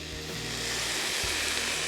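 Four garlic cloves hit a hot pan for black bean shakshuka, setting off a steady, bright sizzle with a low hum and a couple of soft knocks underneath, no talk.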